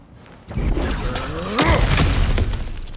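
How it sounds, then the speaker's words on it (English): Kratos breaks through cracked ground in God of War with a loud crunching shatter of rock and debris, close and heavy, rising again midway and then rumbling on. "Ah, back to smashing through things for fun and profit."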